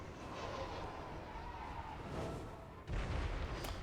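Artillery booming in the fantasy battle game Warhammer 3, a low rumbling barrage that swells midway and ends in a heavier, louder blast close by.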